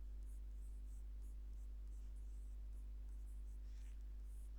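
Pen writing by hand on paper during a class 12 biology lesson, a faint, continuous soft scratching of strokes across the page with steady hum underneath, no one speaking.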